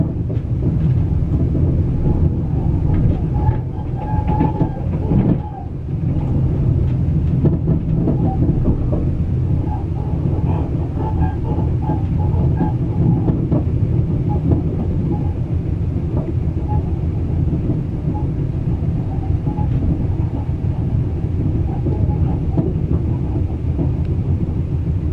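An XPT sleeper train rolls through the freight yards on its approach into Melbourne, a steady, loud low rumble of wheels and carriage noise running throughout with occasional faint clanks and squeals, no talking.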